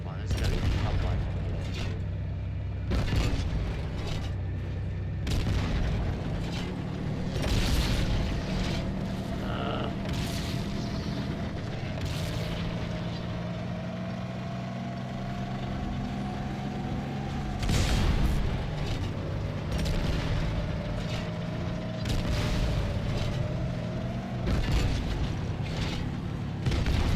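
Rocket explosions boom repeatedly in Halo 2 on Legendary difficulty, with sharp, heavy blasts scattered among gunfire and game noise. A player talks over much of the action.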